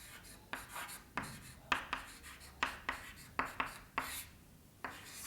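Chalk strokes on a classroom board during a Hindi-medium Class 9 physics lesson on distance and displacement, a dozen short scratchy taps and scrapes in an uneven rhythm, close and clear with no talk.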